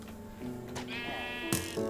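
Sheep bleat in a video game, several drawn-out wavering calls overlapping close by, one sharper cry standing out near the end over a low background hum.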